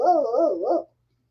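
A human voice imitates a dog's warbling, whining reply, one close, loud, wavering howl-like call under a second long that ends in silence.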